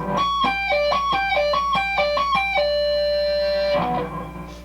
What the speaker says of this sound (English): you're going to tap on the 19th fret